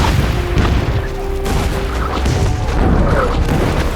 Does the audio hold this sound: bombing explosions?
yes